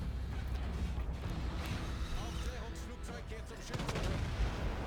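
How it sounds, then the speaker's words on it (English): Naval guns of the Großer Kurfürst battleship in World of Warships boom in a dense, rumbling barrage, with sharp cracks layered over a constant roar of battle noise. "So I line up a shot on their Izumo, fire a couple barrels his way."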